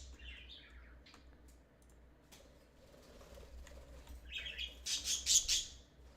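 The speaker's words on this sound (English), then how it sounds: "Birds." Birds chirp in a video game: a few thin tweets come early, then a louder cluster of bright calls near the end, all over a low steady hum with no talking.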